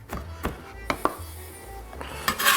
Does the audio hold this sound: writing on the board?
no